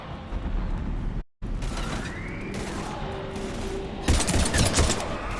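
Battle gunfire from the Mass Effect 3 video game, a run of mechanical clanks and bursts broken by a brief dropout, then turning heavier and denser toward the end.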